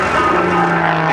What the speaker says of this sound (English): he tumbles the airplane with a shoulder roll